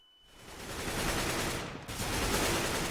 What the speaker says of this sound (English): Shots rattling back out, though, as Big D get to pick up another one on Speedy.